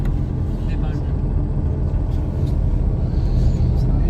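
A bus on the Madinah ziyarat route rolls near the Khandaq site, a low steady engine rumble and road noise filling the cabin, with someone talking over it.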